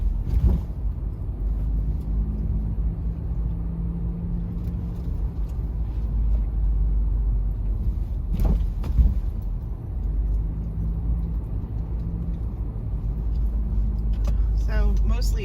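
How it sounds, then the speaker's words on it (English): Car rolling slowly over speed bumps, a steady low road rumble inside the cabin with a couple of dull thumps as the wheels hit the bumps, while a person talks over it. "A couple more speed bumps."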